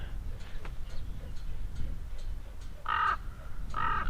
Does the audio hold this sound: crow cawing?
yes